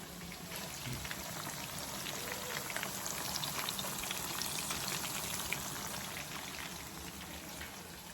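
Chicken fry sizzling in a pan, a steady, close crackle and hiss of hot oil that holds even and unbroken throughout, with no speech.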